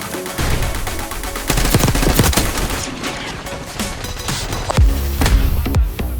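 Rapid gunfire in Counter-Strike or Valorant: dense bursts of loud automatic shots and single cracks fire nearly nonstop, close and punchy, with no voices.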